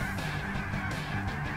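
Geese honk in a dense, continuous chorus during a Canada goose hunt, with overlapping nasal calls repeating throughout at moderate level and no talking.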